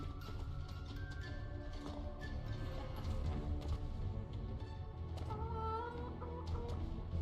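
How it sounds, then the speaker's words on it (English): Possessed chicken-like creatures in the video game Poppet Quest cluck steadily and repeatedly over a continuous game music bed, loud and close with no talking. "We're the little possessed chicken looking things."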